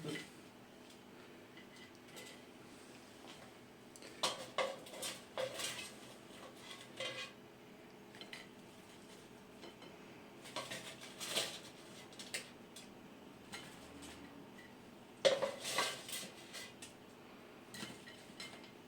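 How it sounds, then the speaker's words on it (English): Homemade chips being dished up onto plates in a home kitchen: scattered clatter and clinks of utensils against crockery come in short bursts over a quiet background, fairly soft and close, with no talk. "now dish up the chips"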